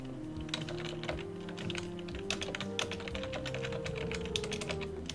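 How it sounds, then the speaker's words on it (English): Rapid typing on a computer keyboard, a steady stream of close key clicks over a background of low droning game music. "Now I can type in it properly and not use the mouse to type out."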